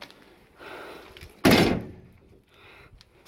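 A van's rear door swings shut with a single loud slam, followed by a short rattle as it settles. A softer shuffle comes before it.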